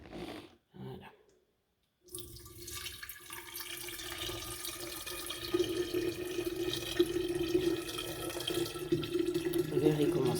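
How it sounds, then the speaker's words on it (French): Water poured into a vortex water system, a steady pouring and trickling that starts after a brief pause and grows louder and fuller, running continuously close by, with a faint voice now and then. "je vais vous verser l'eau, et puis normalement, il devrait fonctionner"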